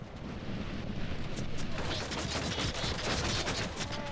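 Volley of arrows loosed by archers in a Lord of the Rings strategy game battle, a dense, continuous crackling barrage of many overlapping releases and impacts, loud and sustained after a brief quieter start.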